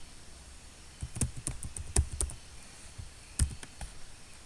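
A computer keyboard is typed on in sparse, irregular bursts of light keystrokes over a low background hiss, with no talking.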